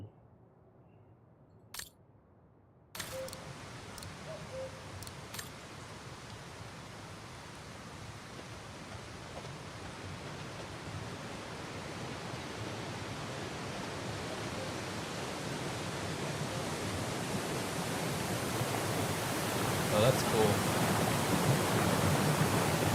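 Steady broadband rush of a waterfall beneath an arch bridge in the Alps, from the video game Syberia: The World Before, swelling in after a short quiet start and building gradually, with a brief spoken remark near the beginning.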